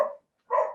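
Two loud, close barks from a dog indoors, split by a short pause, heard during a Zoom interview.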